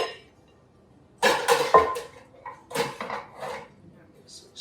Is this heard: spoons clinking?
yes